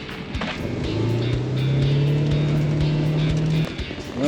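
A Ranger utility vehicle idles and revs at minus 25 degrees on a frozen fishing trip, a steady loud engine drone with a rising whine, close by and continuous, with scattered clicks and knocks.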